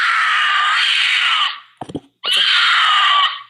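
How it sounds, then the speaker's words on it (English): A mountain lion screams twice, each a long, loud, piercing wail lasting over a second, separated by a short burst of rough, lower sounds. "That's a mountain lion."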